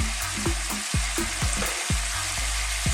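Finely chopped garlic and chunky onions fry in a pan over medium to high heat, a close, loud sizzle broken by rhythmic clanks of stirring.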